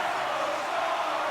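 Arena crowd noise from the hockey video game NHL 26, a constant, broad roar of voices during a stoppage in play, brief and unbroken.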